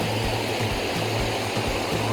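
Water rushes steadily through carved river channels, a dense continuous wash with a low pulsing undertone and no voices.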